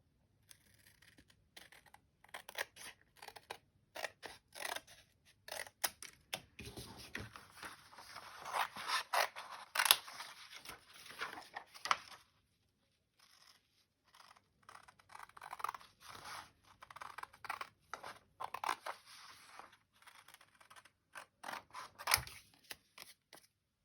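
Scissors snip through paper to trim a scrapbook pocket, with quiet repeated cuts and rustling in uneven bursts and a short pause partway through.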